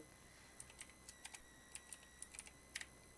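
Quiet, close clicking of computer keyboard keys as a logic node name is typed, a dozen or so light irregular keystrokes in short bursts against a faint background hum.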